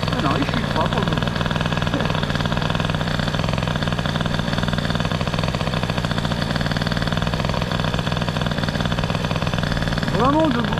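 The boosted Peugeot 103 moped engine idles nearby with a steady, buzzing two-stroke drone that wavers slightly in speed, rising a little near the end.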